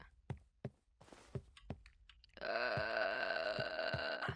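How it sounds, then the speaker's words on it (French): In the horror video game Pacify, a character lets out a long, loud, wavering burp close up, preceded by scattered thumps and clicks from gameplay. "Elle me rote dessus, elle me rote dessus"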